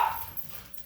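Dogs in a home give a quick bark or yelp at the very start, then the sound fades into low room noise; faint and over within a second.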